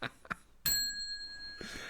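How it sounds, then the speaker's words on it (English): A small bell pressed once for a football cliche, giving a single sharp ding with a sustained ringing tone that slowly decays, heard clearly after a brief faint noise. "Every time there's a cliche, if you don't spot it, I spot it, that bell gets pressed."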